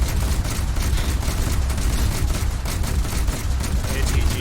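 Naval Bofors guns fire in War Thunder, a dense rapid stream of repeated shots that sounds continuous and loud throughout, with no talk over it.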